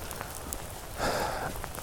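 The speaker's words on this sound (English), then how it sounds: "it's a cold and rainy day at Lake Fayetteville" Cold rain falls at Lake Fayetteville, a steady soft patter of drops on nearby surfaces with a brief louder gust of hiss in the middle, no voices.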